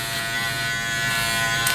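Manscaped Lawn Mower 5.0 Pro Ultra electric trimmer buzzing steadily at close range while shaving chest hair against the grain, a constant dense whine with no breaks.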